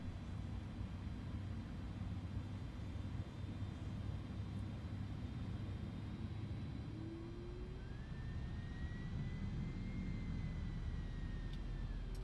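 Steady low jet engine rumble and whine inside an iniBuilds A310 airliner cockpit in Microsoft Flight Simulator during engine start, with a rising tone appearing partway through, continuous and fairly quiet.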